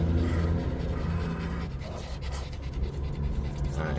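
A dog pants heavily right at the microphone, a steady rapid run of breathy huffs filling the whole stretch up close, with no talking over it.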